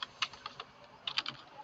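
Fingers typing on a computer keyboard in a terminal window, a quick irregular run of light clicky keystrokes with a brief pause in the middle, close and quiet.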